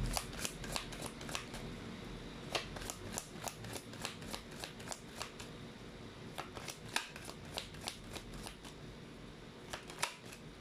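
Tarot cards being shuffled and pulled for a reading, producing a steady papery riffle with repeated sharp flicks and snaps as cards are drawn, close and fairly quiet, with no talking.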